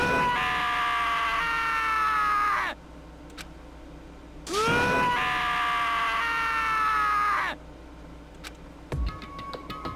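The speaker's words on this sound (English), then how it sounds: "As Taka's sad scream invaded our skulls" A video game character, Taka from Danganronpa, lets out two long, loud, wailing screams separated by a quiet pause, each cry sliding downward in pitch, followed by a brief clatter of sounds.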